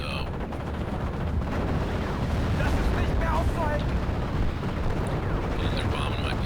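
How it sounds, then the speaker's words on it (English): Bombs and artillery bursting over a World War II battlefield in a 10-versus-10 multiplayer war game, a dense, continuous rumble of explosions and gunfire at steady loudness, with faint voices under the din. "and they're bombing my positions"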